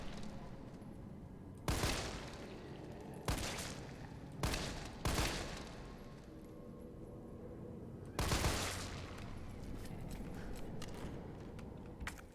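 Gunshots in Resident Evil 3, five separate loud blasts spaced irregularly across a quiet stretch, each with a short ringing decay over low background ambience.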